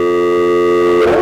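A steady, loud electronic broadcast test tone holds a pure pitch with harmonics for about a second, then breaks off into a brief garbled burst at the end.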